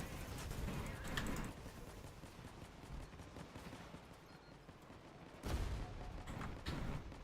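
Video game gunfire crackles in quick bursts and scattered shots, moderately loud, with a heavier cluster of blasts near the end and faint background noise between volleys.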